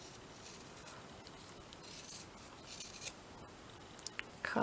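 Scissors snip through scrap fabric while it is folded for stitching flowers, a quiet, close crisp cutting sound that builds to a few sharper snips near the end.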